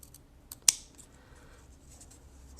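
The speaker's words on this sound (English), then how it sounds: "I'm going to trim off these corners just a tiny bit" Scissors make a few quick, close snips while trimming the corners of a cross-stitch bookmark, with one sharp, prominent cut among fainter clicks in an otherwise quiet room.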